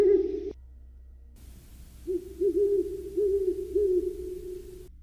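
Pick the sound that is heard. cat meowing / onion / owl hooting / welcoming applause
owl hooting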